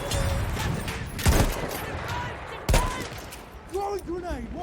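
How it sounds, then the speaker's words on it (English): Gunfire in Battlefield 1 cracks out in a few loud, sharp bursts against a busy battlefield din, with someone talking over the shots. "I'm shooting him in the face!"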